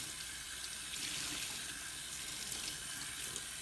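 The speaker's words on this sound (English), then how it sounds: "I'm rinsing it under a cold tap, and I'm rinsing it under flowing water" Yarn being rinsed under a running cold kitchen tap, a steady hissing splash of flowing water, close and uninterrupted with no talk.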